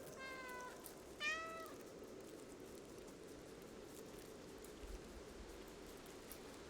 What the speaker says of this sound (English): it's press left alt to meow